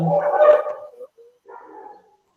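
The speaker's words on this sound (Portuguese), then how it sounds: "meu cachorro resolve gritar" A pet dog barks loudly and close in a home during an online class call, a couple of sharp barks followed by softer whining yelps that trail off.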